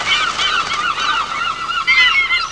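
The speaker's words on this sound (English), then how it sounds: "Thousands of birds rise into the air in complete disarray." A large flock of geese honking loudly and continuously, many overlapping calls forming a dense, chaotic chorus close by, with no voices.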